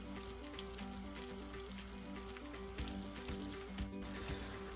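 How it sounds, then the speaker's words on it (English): A quesadilla frying in hot oil in a pan over medium heat, giving a continuous close crackling sizzle with faint pops and a low steady hum beneath, no talking. "Now that the oil in the pan is hot enough, just put that right on there. Oh, you can already hear that sizzling."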